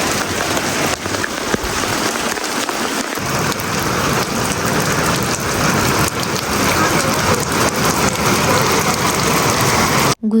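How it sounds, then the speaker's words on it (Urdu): Heavy rain pours down hard and steadily in a village, a dense, loud, continuous hiss of drops striking surfaces with no voices. "اتنی تیز بارش ہوئی کہ بس وہاں کھڑے کھڑے ہم لوگ بالکل بھیگ ہی گئے"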